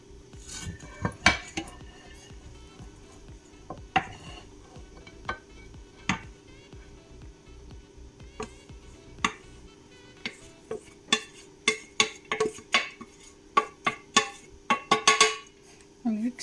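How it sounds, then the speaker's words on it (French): A metal whisk scrapes and clinks against a pot while fluffing hot cooked couscous, giving a steady run of close, sharp metallic taps and rattles that come quicker and denser toward the end. "je vais utiliser mon fouet pour égrener mon couscous"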